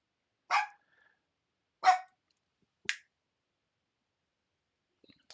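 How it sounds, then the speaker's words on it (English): A dog barks three times in sharp, separate bursts about a second apart, fairly close and alone, followed by a couple of faint distant clicks. "Dog's going nuts."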